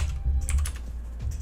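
Fingers typing on a mechanical keyboard, quick clicky keystrokes in a short close burst with no talking.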